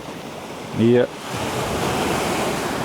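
Pacific Ocean waves breaking in the Second Kuril Strait, a steady broad wash of surf close by, with a brief spoken word near the start.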